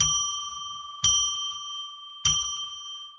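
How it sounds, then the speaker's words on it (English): A small bell rings three times to declare sacred space. Each ring is a bright, clear ding that fades slowly before the next one, roughly a second apart, loud and close with nothing else heard. "Let's ring a bell 3 times to declare sacred space"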